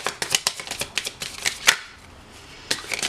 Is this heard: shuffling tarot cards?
yes